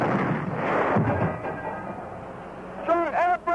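Artillery fire rumbles in a War of the Worlds radio drama, a loud broad roar of blasts and heavy booms that slowly fades, followed by a voice calling out briefly near the end.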